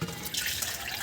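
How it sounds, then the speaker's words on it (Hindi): Water poured from a container onto potted plants, including lemon and mint, in a home garden: a steady, soft splashing trickle that runs on evenly for about a second, close and fairly quiet, with no one speaking. "मैं सबको पानी डाल रही है"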